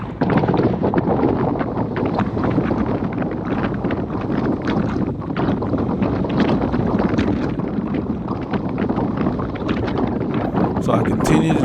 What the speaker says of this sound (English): But still with this wind, you have to work.